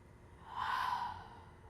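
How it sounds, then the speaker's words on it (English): A person exhales slowly out through the mouth during a guided meditation in an art exhibition: one soft, breathy release that swells and fades, quiet and close, with no talking. "So exhaling out the mouth."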